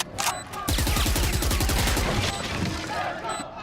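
Rapid gunfire in Valorant at an esports playoff match rattles off in a quick burst of closely spaced shots, loud and near, with a brief shot or two before it and a caster's voice faintly underneath.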